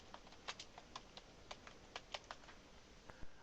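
Quiet, close typing of a keyword phrase on a computer keyboard, a quick irregular run of light key clicks over a faint hiss.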